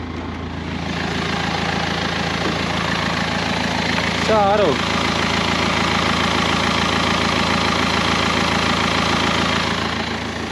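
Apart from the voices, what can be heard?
1963 Volga car engine idling unevenly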